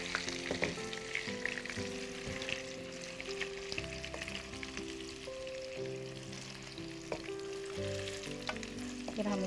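Khandwi frying in a pan, a steady close sizzle and crackle running throughout with occasional stirring scrapes, alone without any talk.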